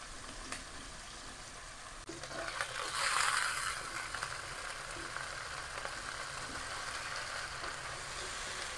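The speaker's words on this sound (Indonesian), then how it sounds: "Di sini Bik Tengah akan tumis semua bumbu-bumbunya ya." Spices sizzle in hot oil while being sautéed for kimchi ramen, a faint, steady crackling frying sound that swells briefly with stirring and then settles, with no talking.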